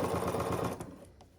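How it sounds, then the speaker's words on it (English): A Bernina sewing machine stitches through thick duffle bag layers in a quick, even run of needle strokes, then stops abruptly, leaving a couple of faint clicks in near silence. "I definitely way prefer sewing bags and thick layers on my Bernina rather than the Juki."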